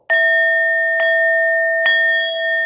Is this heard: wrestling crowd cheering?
no